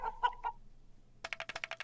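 Cartoon chicken clucking in the You Don't Know Jack video game: three short clucks, a brief pause, then a rapid run of staccato clucks, clear and close.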